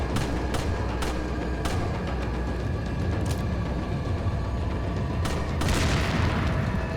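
Dense booming and crackling blasts from Resident Evil 4 HD Project on PC, with dynamite going off and sharp gunshot-like cracks over a loud continuous rumble.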